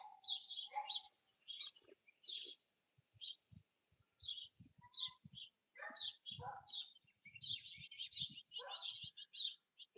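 Small songbirds chirp and tweet in quick bursts at a backyard feeder near a chicken coop, with a few soft low thumps between calls and a busier flurry of chirps toward the end.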